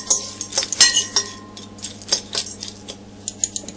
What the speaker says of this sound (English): And just mix it all together so it's all combined.